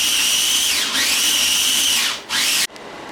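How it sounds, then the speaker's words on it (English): A small mini food processor on its grind setting whirs loudly with a high motor whine that dips briefly twice, then cuts off abruptly near the end. "I don't have but 2 settings on my little mini food processor, and that's chop and grind. So I'm grinding it."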